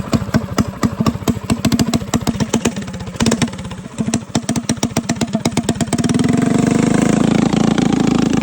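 Small single-cylinder engine of a mini bike bought off Facebook Marketplace, popping in a fast, uneven rhythm close to the microphone, then rising into a steadier, louder drone as it revs.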